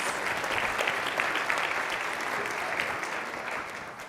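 An audience applauds to welcome panelists onto a stage at a conference, sustained dense clapping throughout, loud and close, with no speech.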